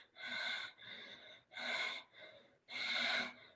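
A voice imitates the labored panting of a dying person: three loud, breathy gasping inhales, each followed by a softer exhale, in a slow, uneven rhythm, close and alone.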